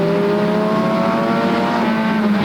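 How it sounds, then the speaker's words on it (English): A 30-car field of pure stock race cars roars off the green-flag start at Flamboro Speedway, engines loud and close in a dense, steady drone with rising revs, one car's pitch climbing sharply at the end. "Fans, it's time to send away this 30-car field for the Gold Rush 30 here at Flamboro Speedway."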